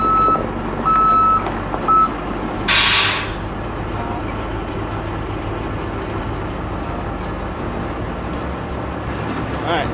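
A school bus backs up with its reversing alarm beeping in a few short bursts over a steady idling engine, with a brief loud hiss partway through, likely an air brake.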